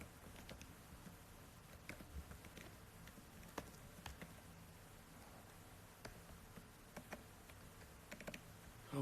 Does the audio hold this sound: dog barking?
no